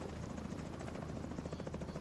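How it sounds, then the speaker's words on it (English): A helicopter's rotor chop in The Division 2 at Coney Island Ballpark, a steady loud pulsing thrum that fills the whole span, close and continuous without speech. "Oh, it's a chopper."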